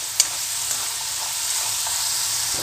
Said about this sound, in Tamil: பொட்டேட்டோவை இந்த அளவுக்கு நீங்கள் கிறிஸ்பியாக ஃப்ரை பண்ணி